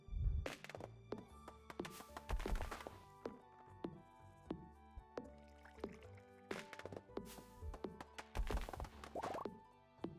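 Hardwood being chopped in Stardew Valley, with repeated hollow thunking axe strikes in an irregular rhythm over light game music, loud and close.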